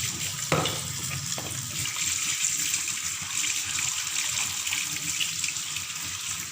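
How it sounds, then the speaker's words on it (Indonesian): Mangosteen peel rinsed under running tap water, a steady splashing stream from the faucet, close and continuous throughout with a brief clatter near the start. "Cuci dengan air yang mengalir."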